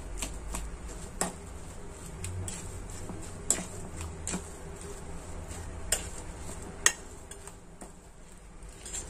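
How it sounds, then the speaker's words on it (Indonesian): Spoon scraping and clinking against a bowl while stirring a snack mixture with green onion, several sharp taps spaced irregularly over a low steady kitchen background, close by and without speech. "Kita aduk lagi nggak tercampur rata."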